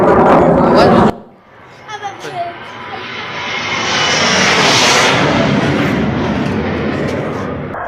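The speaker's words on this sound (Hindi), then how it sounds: "पाकिस्तान के शहरों में जो जेट्स हैं वो उड़ान भरते हुए नजर आए हैं" JF-17 and F-16 fighter jets taking off from a Pakistani air base, a loud jet engine roar building to a steady rumble that fills the clip after a brief cut from louder noise.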